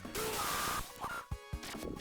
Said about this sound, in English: Oh, so much glass is getting broken.